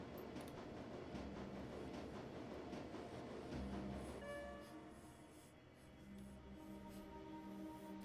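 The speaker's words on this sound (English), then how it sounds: "The train is speeding toward the Cruise Bazaar station." A subway train in the video game Shadowrun: Dragonfall speeds along with a steady rumbling roar, rattling and faint squealing tones, close and continuous, dipping slightly partway through with no talking.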